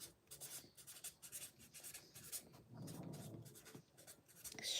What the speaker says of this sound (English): Let me write that down